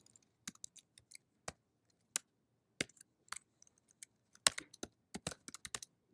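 Code is being typed on a computer keyboard in short, irregular bursts of crisp key clicks with pauses between, close and fairly quiet, and no voices.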